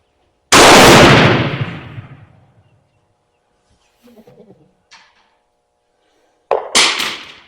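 Two loud rifle reports from a Mauser ring out at an outdoor shooting range, the first with a long decaying echo and the second a few seconds later, with faint brief voice sounds in between.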